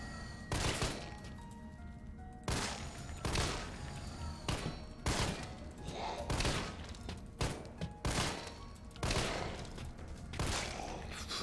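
Gunfire in the zombie video game Resident Evil 3 comes as repeated sharp shots, some single and some in quick bursts, loud over a quieter game soundtrack, with occasional brief talk.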